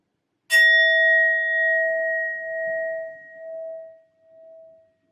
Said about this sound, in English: I'll be using my sound bowl to clear and set the energy